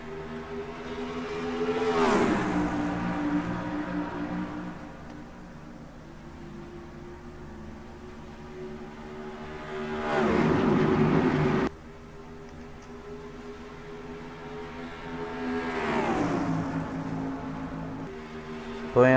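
Stock car engines racing at Las Vegas Motor Speedway in the NASCAR Racing 2003 game: a pack of cars roars past in waves, the engine whine swelling and sweeping down in pitch as each group passes, then droning on.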